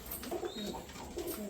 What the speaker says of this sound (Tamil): புறாக்கள் எல்லாமே நல்லா சூப்பராக ரெடியாகி வந்திருக்கு